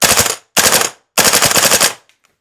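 A VFC KAC-KS1 (L403A1) airsoft rifle with a 3D-printed mock suppressor and first upgrades empties its magazine in three loud, close full-auto bursts of rapid snapping shots, separated by short pauses.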